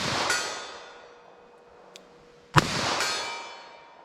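A .38 Special revolver fires standard-pressure rounds at steel 75 yards away, producing sharp reports followed by ringing metallic clangs and decaying echoes. Two main shots are heard, along with a faint distant ping.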